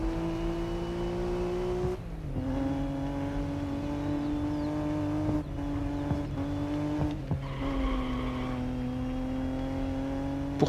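Four-wheel-drive race car in the video game GRID Legends, its engine droning steadily and shifting pitch through gear changes, with brief tire squeal and skidding under braking and cornering; no talking.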